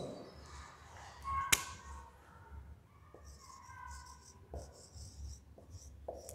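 Chalk or a marker scratches across a classroom board in short, faint strokes, with one sharp tap near the start and a run of quiet rubbing marks after it, recorded in a lecture hall.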